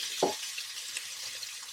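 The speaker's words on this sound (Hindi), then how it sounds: "फ्राइंग पैन ऑलरेडी गर्म है, इसमें जाएंगे सॉसेजेस अपनी पसंद के" Chicken sausages fry in a hot oiled frying pan, a soft steady sizzle with one brief louder clatter near the start as they go in.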